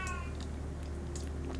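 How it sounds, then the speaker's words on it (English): A grumpy cat meows and yowls at close range, a few short cries over a steady low hum from a game playing in the background. "Hey, cat, you want to come in here and scream at us?"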